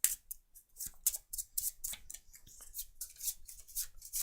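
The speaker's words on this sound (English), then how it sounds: "Now we shuffle the dissenter action cards in the discard pile" A deck of action cards for the Perseverance board game is shuffled up close, with rapid crisp riffling and flicking bursts of card edges repeating in quick, uneven rhythm.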